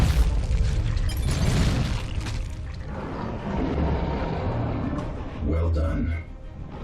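An enemy structure blows apart in Dawn of War 2, with deep booming blasts and rumbling debris filling the scene, layered with battle noise and a voice.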